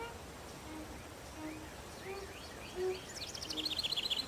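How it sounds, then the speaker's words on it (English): Birds chirp in a video game, with short high calls scattered over a steady ambient hum and a quick rapid trill near the end, fairly faint against the background. "This is where the birds live."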